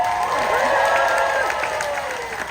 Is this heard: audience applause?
yes